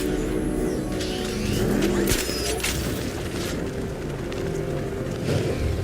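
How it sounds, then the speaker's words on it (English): The Arkham Knight's armored vehicle in Batman: Arkham Knight swerves and crashes. A loud, continuous engine roar with tire noise builds to a sharp impact about two seconds in, then keeps rumbling. "The Arkham Knight's vehicle swerved and crashed up ahead."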